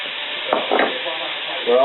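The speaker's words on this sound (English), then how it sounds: "We're going to add the onions." Onions tipped into a hot pan with mushrooms sizzle steadily, with short bursts of stirring and scraping and a louder hiss near the end; no one speaks.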